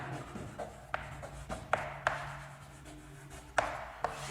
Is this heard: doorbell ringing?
no